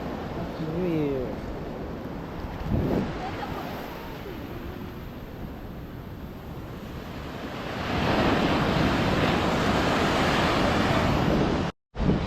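Ocean waves wash onto a beach in a continuous broad roar that swells louder near the end, with wind buffeting the microphone and people talking over it early on.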